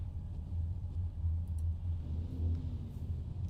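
Race cars sit together on the grid before the A main at The Rock, their engines rumbling at a low steady idle, fairly quiet and distant with no voices over them.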